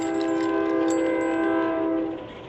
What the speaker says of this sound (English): We got trains again.